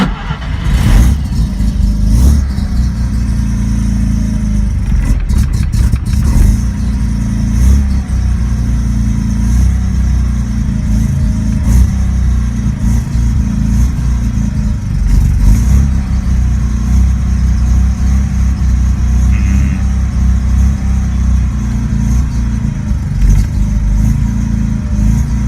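A Mazda RX-7 engine idles roughly after a clutch and transmission install, a loud, close, uneven rumble with wavering pulses and a few sharp surges early on, running continuously.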